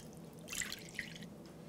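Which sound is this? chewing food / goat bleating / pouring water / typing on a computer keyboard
pouring water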